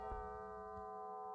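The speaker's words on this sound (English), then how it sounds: "Padre Felipe, why does the bell ring at this time of day?" A mission church bell rings out as a warning, giving a faint, sustained tone that hangs under low background noise, with a soft strike near the start and another partway through.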